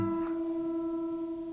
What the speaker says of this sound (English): I'm going to play a harmonic on the low E string at the 5th fret